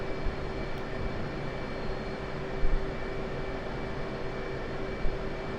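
An aircraft engine at Nellis runs steadily before takeoff, a loud, constant broadband roar with a fixed tonal whine, unbroken and with no voices.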